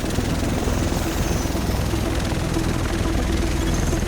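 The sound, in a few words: helicopter at a helipad in the video game The Division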